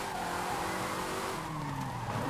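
A car sliding in Forza Horizon 5, a mid-engine rear-wheel-drive model, with sustained tire squeal and skidding over a steady engine drone, gliding pitch changes as it drifts, loud and continuous with no talking.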